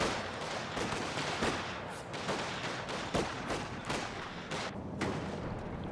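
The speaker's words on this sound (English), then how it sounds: "Getting so busy shooting at the sandbags, I think they were." Gunfire rattles in the World War II strategy game Company of Heroes 2 as troops shoot at sandbag cover, a stream of sharp cracks and bursts at a moderate, distant level over a constant battle din.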